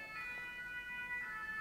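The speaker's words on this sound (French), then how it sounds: "je vais m'arrêter le temps de la sirène, on va laisser passer les pompiers ou l'ambulance" Siren of a passing fire engine or ambulance, a faint, distant steady wail held as high tones across the short moment, with no voices.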